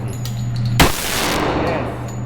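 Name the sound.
gunshots from Kimber Pro Carry 2 1911 pistol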